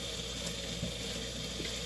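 Tap water runs steadily into a kitchen sink while hands are washed after seasoning chicken for homemade empanadas, a continuous close hiss with faint splashing.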